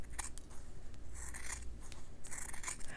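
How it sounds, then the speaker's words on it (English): Scissors snip through fabric and batting while trimming around a cross-stitch piece, a few close, crisp cuts in short bursts with quiet rustling between them. "So now I'll go and I'll very carefully just trim this fabric up, removing some of that batting."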